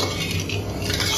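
Sugar syrup is stirred in a pan over a medium flame, giving soft scraping and faint clinking of a utensil against metal over a quiet background hiss, continuous for a moment.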